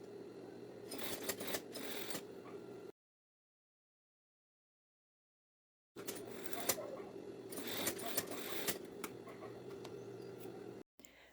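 A straight-stitch sewing machine runs joining the shoulder seams of a women's lab coat, two close bursts of rapid, rattling stitching separated by a few seconds of silence, fairly quiet.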